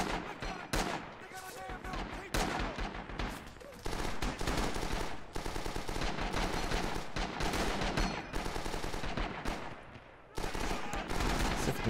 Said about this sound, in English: So he's firing down range.